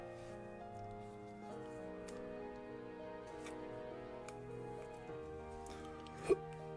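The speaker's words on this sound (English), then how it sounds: "Oh, I've got hiccups now." A single sharp hiccup stands out near the end over a steady, low tonal background hum.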